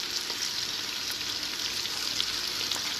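A large batch of onions frying in a pan, giving a dense continuous sizzle with faint stirring scrapes mixed in, close and steady without speech.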